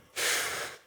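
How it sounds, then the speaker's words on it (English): One deep controlled breath during an exercise bike workout, a single close, breathy airy rush that swells quickly and then fades over about half a second. "You can kind of see where I'm panting in between"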